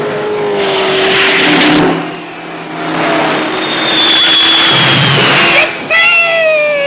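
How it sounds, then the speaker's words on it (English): Loud race cars roar close past with whining engines and sliding pitch as they speed along a cross-country course, with voices mixed into the din. "The cars converge from all their routes and head for the first pit stop in St. Louis."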